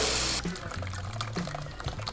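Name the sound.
water pouring to wash a graphics card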